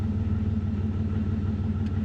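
A car's engine idles after being switched on, a steady low rumble with a faint rhythmic pulse, continuous and fairly close, with no talking over it.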